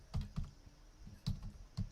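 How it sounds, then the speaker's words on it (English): Keystrokes on a computer keyboard, a few clustered clacks followed by pauses and separate taps, close and fairly quiet, with no one talking. "I'm typing this in right now so I can share it with you."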